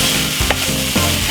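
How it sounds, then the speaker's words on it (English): Butternut squash with garlic fries in a pan, a loud, continuous close sizzle with a few scraping stirs of a utensil, no voices. "So let this fry for about 3 more minutes."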